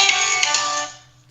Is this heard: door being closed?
no